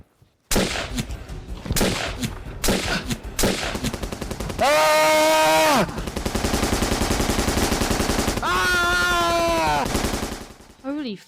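Bursts of rapid automatic gunfire, loud and close, mixed with single shots and sustained firing stretches, alongside whooping tonal effects, with occasional voices underneath.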